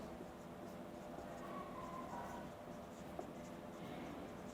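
Faint, continuous scratching of a pen or marker on a board as a chemistry lesson is being written out, quiet and steady against a low room hum.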